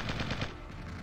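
Rapid automatic gunfire from the strategy video game Original War, a dense, loud burst of overlapping shots that fills the whole second with no voices.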